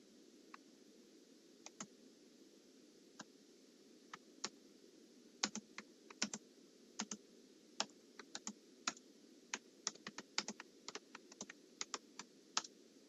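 Typing on a computer keyboard in a quiet room, with scattered single key clicks and short quick bursts of keystrokes, close and fairly faint over a low steady hum.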